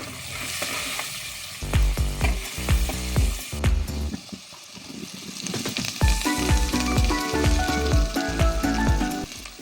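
Turmeric and curry leaves sizzle and spit in hot oil in a pan, with loud bursts of frying and repeated scraping strokes of a spoon stirring close by, no voices.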